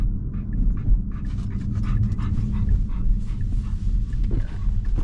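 Two dogs panting heavily after getting vaccine shots at the vet, a rapid, continuous huffing rhythm close by over a low vehicle rumble, with no talking.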